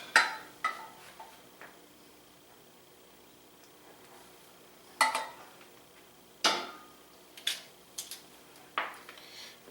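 Air-fried garlic buffalo wings tossed in a bowl to coat them in sauce, giving a handful of separate soft clattering thumps at irregular intervals against a quiet background.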